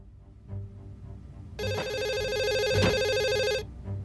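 A telephone in a cutscene from the game The Assembly gives one long electronic ring lasting about two seconds, loud and close, with faint room noise before and after and no one speaking.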